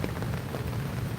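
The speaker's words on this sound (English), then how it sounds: "the rain's starting to get hard now" Heavy rain drums steadily on an umbrella held close overhead outdoors at Plaza Libertad in Iloilo, a dense continuous patter with no breaks.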